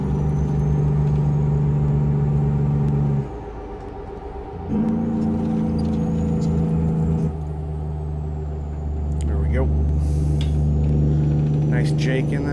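A Peterbilt 379/389 glider truck hauling a furniture trailer, engine-braking with a Jake brake while slowing into town: a loud, steady low rumble that shifts pitch as the brake engages and releases, heard close from inside the cab.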